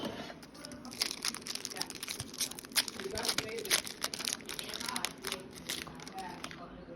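A Pokémon card pack's crinkly wrapper is torn open close by, producing a dense, continuous run of crackling and rustling with sharp tearing bursts throughout.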